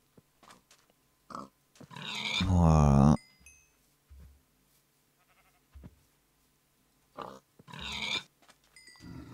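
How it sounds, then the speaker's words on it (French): Pigs in a survival video game give a loud, drawn-out squeal and scattered short grunts between quieter moments, with someone speaking briefly. "On va tuer du cochon, je pense."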